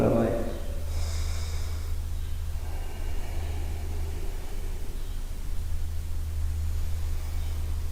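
Forceful nasal breathing during a meditation breathing exercise: a sharp snorting exhale at the start followed by quieter breaths and faint rustling against a low hum.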